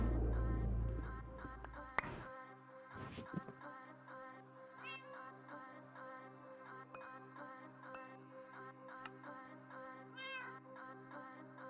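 A cat in GregTech New Horizons, a witch's cat, gives a few short meows over a steady game background hum, with occasional faint clinks.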